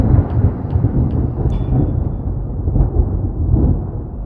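Deep rolling thunder rumbles steadily and loudly throughout, a storm about to break, with faint higher rattles on top and no voice.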